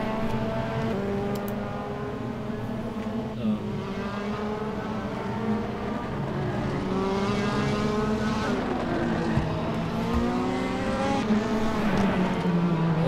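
A BMW race car laps a circuit in a sim racing game, its engine note loud and steady, rising and falling in pitch through gear changes and corners, with repeated upshifts and downshifts.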